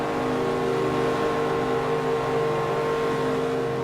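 Race cars at Indianapolis in the Forza Motorsport 4 game, NASCAR-style: a loud, steady engine drone with layered whining tones, held without a break for the whole stretch and no voices.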